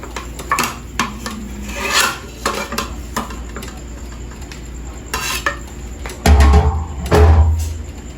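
Cooked squash is scraped, stirred and mashed in a container, giving a run of rasping scrapes and soft knocks, with two heavier thumping bursts near the end, close and fairly loud, no talking.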